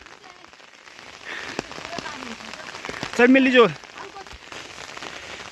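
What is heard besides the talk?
rain falling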